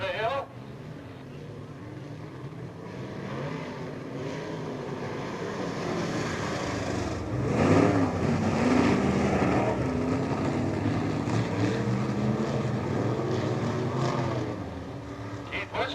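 Race cars roar around Peoria Speedway in a heat race at a 2003 Old Timers Day event, a continuous engine drone that swells midway, under steady announcer talk.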